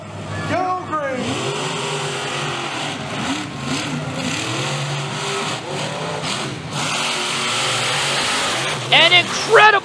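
Monster trucks race side by side at the New Egypt Summer Smash show, their engines roaring and revving steadily for the whole stretch, loud and close, with voices and a burst of crowd noise near the end.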